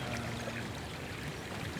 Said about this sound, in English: we've got that weird water feature